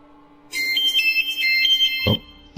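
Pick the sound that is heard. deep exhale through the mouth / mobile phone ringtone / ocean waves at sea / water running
mobile phone ringtone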